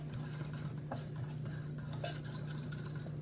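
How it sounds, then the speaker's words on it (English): A fork whisks dry ingredients, including baking soda, together in a bowl, making a quick, steady scraping and tapping against the bowl under a low hum, with no talking. "we're just going to kind of whisk these together with our fork, the dry ingredients"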